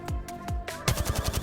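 Rapid bursts of gunfire from the battle royale game Apex Legends, a few separate shots followed by a quick rattling volley, loud and close with no talking.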